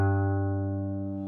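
Guitar fifth string tuned down from A to G, a single plucked low note ringing steadily and slowly fading, close and clear, with nothing else heard.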